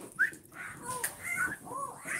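A dog named Luna whimpers in a series of short, high, wavering whines, close and fairly soft, with a little background noise between them.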